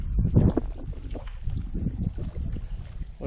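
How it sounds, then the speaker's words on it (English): Wind gusting over a lake on a canoe trip in the Ontario backcountry: a steady, rough rush of buffeting across the microphone, with a low rumble and faint splashing throughout. "Wind's picking up a bit."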